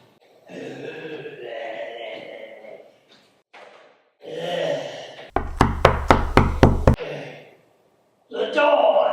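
A rapid series of about seven sharp knocks on a door in an old dark house, loud and close, between stretches of talk.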